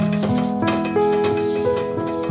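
Kashmiri red chilli powder is stirred and sizzles in a pan, soft scraping and frying crackle close by over steady musical tones.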